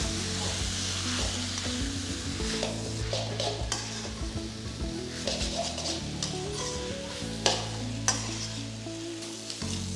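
Cooked noodles are stirred and tossed in a hot pan of sizzling sauce, a continuous fry with a low cooking hum beneath, punctuated by scraping utensil strokes and a couple of sharper clinks against the pan.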